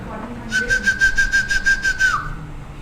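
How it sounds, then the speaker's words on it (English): A person whistles one long, steady, clear note for about a second and a half, ending in a slight downward slide, loud and close with faint room noise behind. "I know how to whistle in different ways."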